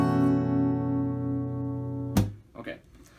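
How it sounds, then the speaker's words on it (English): A guitar capoed at the third fret in drop half-step tuning rings out as one sustained strum, then is cut off by a sharp knock, followed by faint rustling. "put on the third fret. So it should sound like this."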